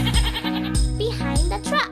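A goat bleats several times in short, wavering cries. A voice and light jingling are mixed in with the bleats.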